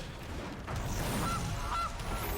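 A cartoonish goose honk sound effect plays in the MTG Arena card game when a goose card enters play, a couple of short honks over a steady bed of game background noise.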